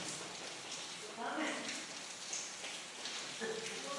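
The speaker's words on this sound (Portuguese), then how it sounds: "Está chovendo mesmo? Chuva de graça." Steady rain falling as a broad, even hiss that carries through all four seconds, with faint voices underneath.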